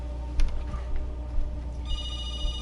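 A telephone rings indoors in a home, a steady electronic ringing tone continuing through the moment with faint background room noise.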